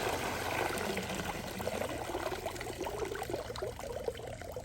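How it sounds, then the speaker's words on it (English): Water streams and trickles steadily out of an Aiper cordless robotic pool cleaner lifted from a pool, a continuous splashing pour that runs close and fairly loud throughout. "And I gotta let it drain a little bit."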